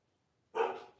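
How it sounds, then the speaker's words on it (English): A single short dog bark, fairly close and clear, after a moment of near silence, with no talk. "Oh, my dogs are barking."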